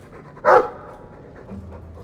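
A Mabari war dog in the video game Dragon Age 2 gives a single short, loud huff or bark-like exhale, followed by soft panting in the quiet that follows.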